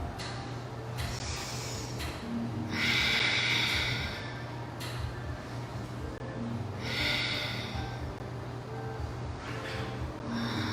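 Slow, deep yoga breaths during a vinyasa flow session, long airy inhales and exhales repeating every few seconds at close range over a steady low background hum.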